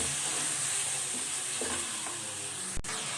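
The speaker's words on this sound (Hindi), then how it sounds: "इसमें तमाम मसाला जात ऐड कर देंगे और अच्छी तरह से मिक्स करेंगे" Spices stirred into garlic and ginger frying in oil for a chicken curry, a steady close sizzle with scraping strokes of a spoon and one brief sharp knock near the end.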